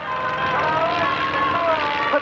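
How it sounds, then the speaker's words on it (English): An aerobatic aeroplane performs at the 1996 Middle Wallop Air Show, its engine a steady, fairly distant drone. It runs continuously beneath a narrator's spoken commentary. "This is an aerobatic aeroplane"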